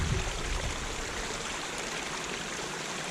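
Limb Brook, a brown-tinged moorland stream, rushes and burbles steadily up close, a dense, even wash of flowing water with no voices over it.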